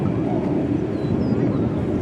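A P-51 Mustang flies past at an airshow, its broad, steady propeller-engine roar sustained and fairly loud, with no speech over it.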